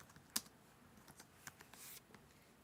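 Keystrokes on a computer keyboard while text is entered into a spreadsheet, a sparse run of light clicks with one sharper tap near the start and a brief brushing burst later, quiet and close with no talk.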